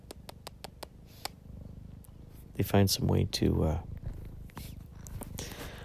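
A pet cat named Gonzo purring close by, a soft low rumble running under tapping and a voice talking.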